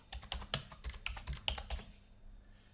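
Quick bursts of typing on a computer keyboard, a rapid run of crisp clicks close to the microphone, trailing off into quiet after about two seconds.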